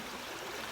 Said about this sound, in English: it's a nice little stream